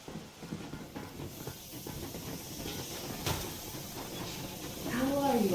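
Steady broad hiss from the steam train Yermak in the game Metro Exodus fills the whole stretch and swells louder near the end, where a faint tonal whine rises over it.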